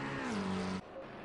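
A GT3 race car in Assetto Corsa Competizione leaves the pit lane at Monza, its engine droning steadily and rising in pitch before cutting off abruptly, with a fainter engine tone continuing afterward.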